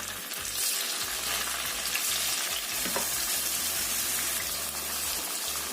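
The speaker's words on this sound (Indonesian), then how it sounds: "Ini kita goreng tahu sampai kuning matang." Tofu fries in oil with a continuous loud hiss and crackle, steady and close, with no talking.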